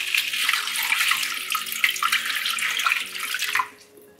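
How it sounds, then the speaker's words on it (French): Water pours steadily into a cooking pot holding mango leaves and cloves, a close, continuous splashing rush for several seconds that stops abruptly near the end, with no talk. "Donc là maintenant je viens rajouter de l'eau et puis je vais porter à ébullition."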